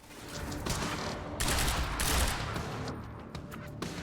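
Loud bursts of gunfire in the Quantum Break shooter, ragged volleys of shots and explosive blasts crowding together, with a heavy peak midway before trailing into sparser cracks.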